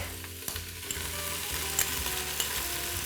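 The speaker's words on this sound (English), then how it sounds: "Now I'm going to add in some garlic" Garlic going into a simmering pot of beef and chicken bone broth, giving a steady, close, dense sizzle with light stirring clatter and no voices.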